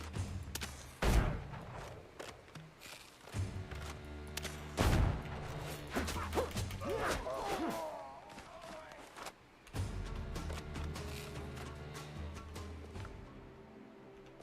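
Gunfire in the pirate-era game Windrose, with several sharp, loud shots spaced apart among booming thuds and clatter, while a player talks over the action.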